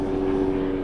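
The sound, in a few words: airplane flying overhead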